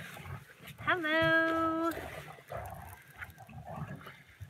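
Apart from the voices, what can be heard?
dogs fighting behind the camera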